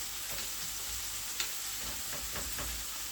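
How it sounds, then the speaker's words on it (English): Ground beef filling for Jamaican patties sautés in a pot, a steady close sizzle with a few scraping stirs of a spoon against the pot. "Just get it to saute a bit."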